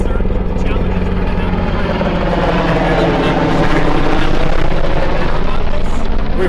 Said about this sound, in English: You can't help but feel better from where we were this morning to have helicopters like that flying over our head.